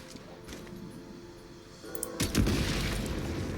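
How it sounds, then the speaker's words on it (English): Explosives detonate in a video game with a deep boom that swells into a rumbling blast after a quieter stretch of ambient game sound. "Shoot the explosives to detonate them and clear the path."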